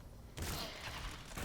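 Gunfire in the video game CS:GO, with a sudden loud burst of rapid, rattling shots that continues densely to the end, under a faint background voice.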